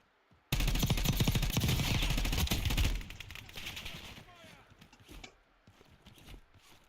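Rapid automatic gunfire in a video game, a loud continuous burst lasting a couple of seconds, then scattered fainter shots and clatter trailing off.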